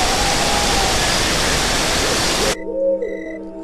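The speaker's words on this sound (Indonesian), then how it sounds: "Grojogan Roro Kuning atau disebut juga dengan air terjun Roro Kuning" Roro Kuning waterfall in Bajulan village, a loud, dense, close rush of falling water that cuts off abruptly after about two and a half seconds into a quiet tonal background.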